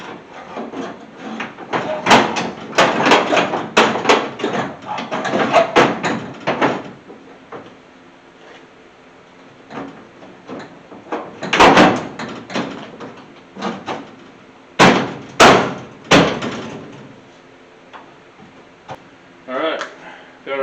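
Installing the vent window and door glass on a 1981 Chevy C30 truck door brings a string of sharp knocks and thumps against metal and glass, with bursts of close clatter early on and a few loud bangs later, plus faint talk in the background.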